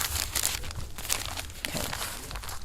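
Fabric being folded up for free-form appliqué, a close series of soft crinkling and rustling handling sounds over a few seconds.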